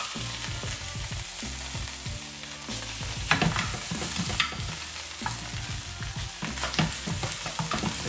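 Rice fries in a pan with a dense, continuous sizzle and scattered crackles and scraping stirs, steady and fairly close, with no talk.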